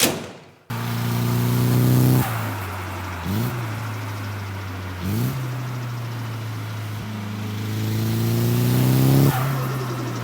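A JDM Nissan 180SX with a newly fitted turbo, manifold, dump pipe and exhaust drives close by, its engine loud and steady, with revs climbing, dropping and climbing again in repeated surges.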